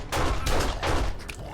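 Two rapid bursts of pistol gunfire in a video game, each a loud cluster of sharp cracks lasting about a third of a second, separated by a short gap, with a faint click trailing at the end.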